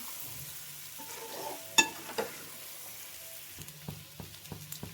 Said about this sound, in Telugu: ఇట్లా కలిపేసుకోవాలి, మంచిగా కలిపేసుకుంటూ ఫ్రై చేసుకోవాలి.